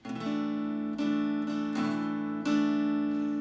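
An electric guitar chord with the A string muted, strummed repeatedly and sustaining, close and clear with no voices.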